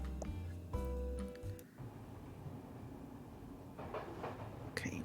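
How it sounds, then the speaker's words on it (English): Train ambience in a cozy video game demo: a steady low rumble of a moving railway carriage with tonal hums and faint clicks, continuous and close throughout. "we are on a train"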